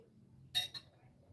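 A glass of water gives two quick, light clinks in close succession while someone drinks, close by over a quiet background.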